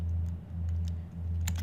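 Someone types code on a computer keyboard, with scattered light keystrokes ticking irregularly over a loud, steady low hum.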